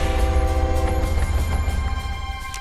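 Train in a point-and-click adventure video game featuring Kate Walker: a steady, loud low rumble with sustained tonal hum, continuous throughout, like a locomotive idling or rolling nearby.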